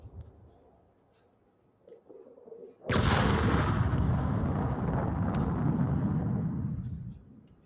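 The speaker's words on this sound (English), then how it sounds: "Seriously, there's still shooting going on?" Gunfire in a video game erupts suddenly after a few quiet seconds into a loud, dense, sustained barrage that roars on for several seconds before tapering off.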